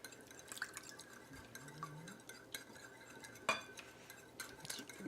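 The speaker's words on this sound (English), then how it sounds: "we're going to whisk these together. And we'll add a little bit of milk" Eggs and milk whisked in a bowl, a light metal whisk clinking and dripping against the sides in quick uneven strokes, close and fairly quiet with no talking.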